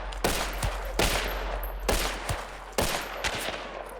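Video game gunfire in a shootout: four loud, sharp shots at roughly one-second intervals, each followed by a short echoing tail, with softer clicks in between.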